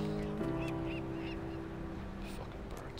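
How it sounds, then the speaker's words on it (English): Birds honking in a video game, a few short honks off in the background over a steady tonal game drone, with a voice murmuring at the start. "Fucking birds."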